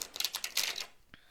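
Tarot cards being shuffled give a quick run of crisp, papery flicks and riffles in short bursts, close and fairly quiet, ending with a single soft tap.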